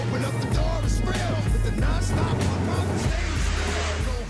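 A stunt car piloted remotely with no driver inside roars steadily nearby, its engine holding a loud continuous drone with slight surges.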